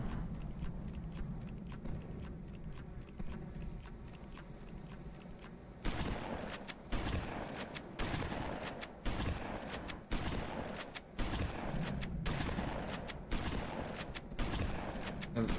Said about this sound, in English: Right now the shotgun bullets are going out of bounds and they're piling up.